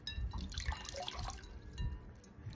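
Water is patted and splashed onto the face by hand at a bathroom sink, giving soft, quiet close-up drips and small wet splashes in short uneven bursts.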